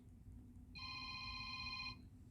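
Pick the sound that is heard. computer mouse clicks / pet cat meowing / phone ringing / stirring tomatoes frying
phone ringing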